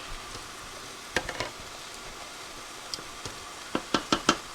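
Onion and sausage sauce cooking in a pan, a low steady simmer broken by sharp sputtering pops and splatters, sparse at first and then clustered in quick bursts near the end, fairly faint.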